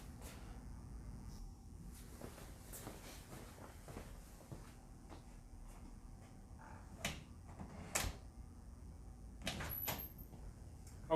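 A door in a haunted attraction's backstage area is unlocked and opened, with scattered clicks, latch knocks and thumps over low background rumble, a few sharper clacks near the end.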